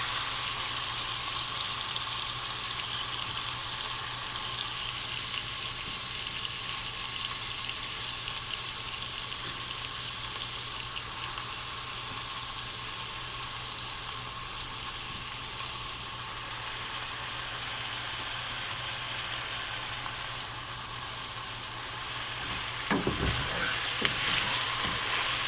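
Onions fry with okra in a pan, a loud, steady sizzle that runs without a break, with a brief stir or clatter near the end and no talk.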